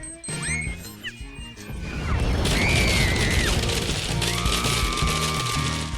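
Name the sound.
explosion of a chocolate bomb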